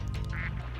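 A short burst of cartoonish duck quacks sounds from the Spyro 2 video game, a brief nasal call over a steady game background hum.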